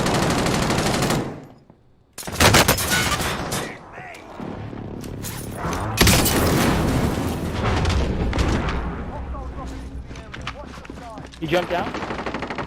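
Dense bursts of video game gunfire, with machine-gun rattles and booming shots, come in loud clusters after a brief silent gap and continue steadily, while players talk over the action.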